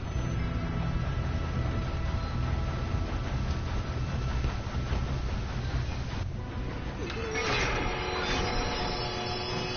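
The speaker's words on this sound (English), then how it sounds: "We have to stop this train." A train in the video game Red Dead Redemption 2 gives off a continuous loud rumbling and clattering roar during a train robbery, shifting in texture briefly near the end.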